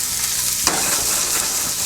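Small chopped pieces hit hot oil for a stir-fry, starting a sharp sizzling crackle that flares suddenly and carries on loud and close.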